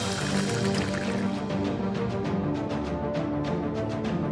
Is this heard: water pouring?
yes